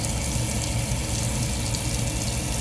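Hot water rushes steadily into a Solis 59P water tank, a constant loud broadband gush with no pauses and no talking over it.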